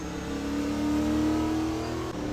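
Loud car engine revving and accelerating hard on a country road, a steady rising drone held close and strong throughout, with a brief dip near the end and no talking.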